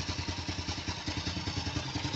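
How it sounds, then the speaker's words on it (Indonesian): Honda Supra X motorcycle engine idling smoothly, a steady low rhythmic putter with regular firing pulses, close and continuous throughout, no talking. "suara idle mesin itu masih enak denger lah"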